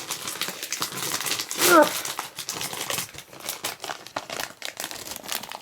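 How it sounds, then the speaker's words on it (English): A bag of Walkers Max Fiercely Flamin' Hot crisps crinkles open, a sharp loud rustle and tear burst near the middle, with lighter plastic crinkling and a brief voice around it. "I'm going to open them away from the microphone because it's always way too loud"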